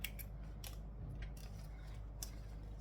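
Scissors snip apart chain-stitched fabric pieces and trim thread tails, a series of quick, crisp cuts at close range with short pauses between them, no talking.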